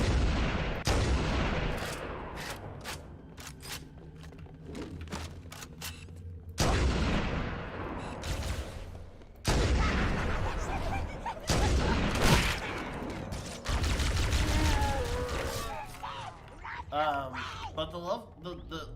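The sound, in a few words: weapons firing in the video game Halo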